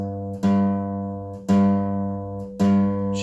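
A bass guitar G note played on the 4th string at the 3rd fret, plucked three times in a row, each note ringing loud and full before the next attack.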